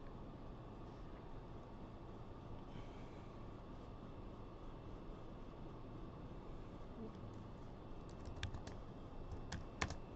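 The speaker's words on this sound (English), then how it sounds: "you typing this is stopping me from writing the lore" Computer keyboard typing, faint and distant beneath a constant hum, with a few sharper key clicks near the end.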